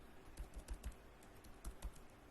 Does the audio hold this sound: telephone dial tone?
no